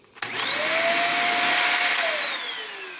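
A Dyson DC50 vacuum cleaner motor switches on and spins up to a loud, steady high-pitched whine, then winds down slightly in pitch and level toward the end, heard close with no talking.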